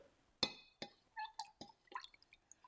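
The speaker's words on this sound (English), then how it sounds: "And then we'll pour it into our mason jar." A 60/40 mix of water and glycerin is poured into a glass mason jar for a homemade snow globe, giving quiet, close drips and splashes with a few bright glassy clinks in an uneven patter, without talk.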